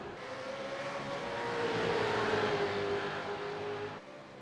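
Race cars in a V8 sim racing game at Phillip Island. Engines drone and rise in pitch as the cars accelerate down the road. The whine swells to a peak and then fades, with a sharp drop at the end.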